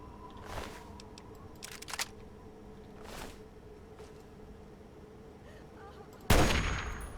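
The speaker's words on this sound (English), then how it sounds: "Shots fired." Gunfire in the video game Fallout 3: a few sharp, separated shots spaced out over a quiet background, ending in a louder, longer burst of noise.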